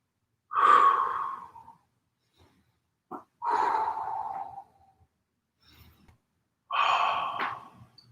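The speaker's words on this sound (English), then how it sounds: "Breathing through your stretch here, feeling strong." Deep breathing during a yoga stretch: three slow, audible exhales with a quick inhale between them, close and soft against near silence.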